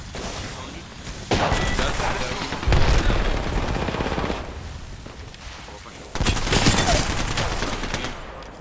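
Bursts of rapid automatic gunfire in the shooter game Apex Legends, loud and dense fusillades that start and stop over several seconds, with voices talking underneath.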